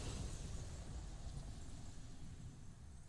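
The Zeta Flare in Final Fantasy XVI, a massive explosion destroying a crystal: a dense, low rumbling roar that fills the whole stretch, heavy and continuous rather than a single sharp blast, with no talking.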